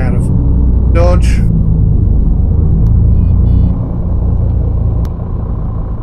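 Engine of a Setra ComfortClass S 519 HD coach in Fernbus simulator, a steady low rumble during a sharp 180-degree turn, easing slightly toward the end, with a person talking over it.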